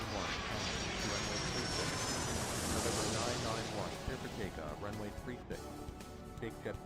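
Airliner taking off in the airport game Airport Madness 3, a broad roaring jet-engine rumble that swells and then sweeps away, loud and continuous with a rougher, grainier tail.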